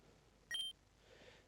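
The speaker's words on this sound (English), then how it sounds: "Oh, who's ringing? Incoming call from Dad." A single short electronic tone chirps once as an incoming phone call alert in the Pokemon Opalo game, a bright, clean beep lasting a fraction of a second against near silence.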